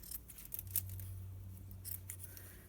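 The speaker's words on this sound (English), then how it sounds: "I'm going to cut myself some pads for our alcohol ink" Scissors cutting felt pads for alcohol ink, quiet snipping with a couple of crisp clicks of the blades over a steady low background hum.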